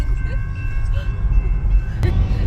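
A train rolls along tracks near the Arizona state line, a loud low rumble that rises and falls without letup, with a short sharp knock near the end.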